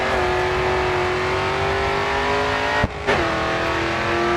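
Loud, steady in-game racing car engine in Grid 2 holding high revs while drifting through a corner, with a brief sharp dip and gear-change stutter near the end before the drone resumes.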